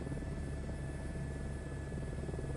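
A helicopter in Microsoft Flight Simulator 2024 gives a steady, close rotor and engine drone, a continuous dense rumble with a faint high whine, no voices.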